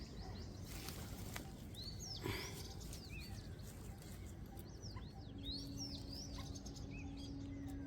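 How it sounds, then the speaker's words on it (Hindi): Small bird chirping close by in a home garden of flowering plants in containers, with bright, short, upward-swooping calls repeating through steady low background noise. "देखिए कितनी नज़दीक मेरी चिड़िया बैठी है, देख रहे हैं?"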